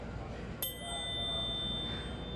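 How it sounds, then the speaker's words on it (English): A small chime is struck once, a bright metallic ding that rings on as a clear, sustained tone slowly fading over the next couple of seconds. "And now we have a little chime here"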